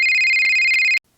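A phone rings with an incoming call: a loud, steady electronic trill with rapid pulsing that stops abruptly, leaving near silence.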